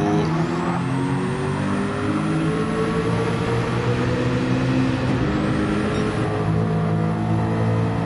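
Several Group C prototype race car engines in a sim racing game drone and howl together in a tight pack, a continuous loud layered roar with shifting pitches throughout.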